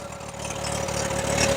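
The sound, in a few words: Bobcat skid steer engine running just above idle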